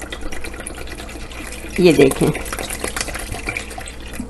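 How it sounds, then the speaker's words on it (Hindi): Water poured from a bottle into a bowl of yogurt for dahi vada, a close gurgling splash rising briefly over steady background noise while someone talks. "इसमें मैं मिलाऊंगी बहुत सारा पानी।"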